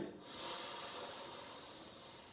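An inhalation during a floor exercise on a ball, with the cheek resting on the ball, comes as a steady, soft airy rush that holds for about two seconds, close and alone.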